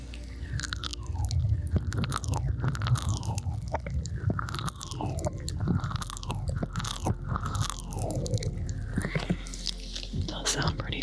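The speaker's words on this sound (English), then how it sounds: "We are licking the ears." Close-up ASMR ear licking, repeated wet licks and mouth clicks in a loose rhythm, with soft breathy whispering mixed in throughout.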